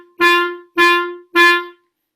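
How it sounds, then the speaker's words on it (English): Three short, detached notes on G from a wind instrument, each sharply tongued and evenly spaced about half a second apart, heard alone and close. "I want us to now play our shortest possible note on our notes G."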